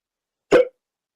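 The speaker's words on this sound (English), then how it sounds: "because I got hiccups" A single short hiccup pops out close and clear, a sharp vocal gulp surrounded by silence.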